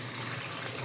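Water pouring in a steady hissing splash into chicken masala with butter and flour in a cooking pan, continuous and close for the brief moment.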